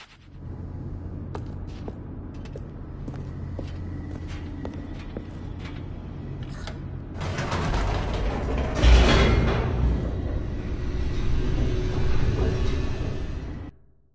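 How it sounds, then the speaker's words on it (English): Elevator in The Stanley Parable, descending: a steady low mechanical hum and creaking run throughout, then swell into louder rattling, grinding machinery with a sharp clunk midway before fading out at the end. "The elevator raced downward, plummeting towards an unknown fate."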